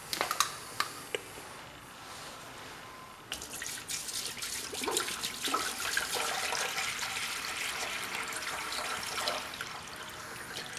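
A few sharp clicks and knocks, then water starts running steadily from a tap or hose into a new toy being filled, a constant splashing gush that continues to the end.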